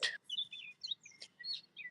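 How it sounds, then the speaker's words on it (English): Bird calling amid a vast stretch of greenery outdoors: a series of bright, clear chirps and tweets in short bursts, fairly near, with a faint background hum and no talking. "a beautiful bird again"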